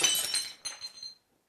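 A glass object shatters in a kitchen, a bright crash followed by a few tinkling fragments settling over about a second before silence.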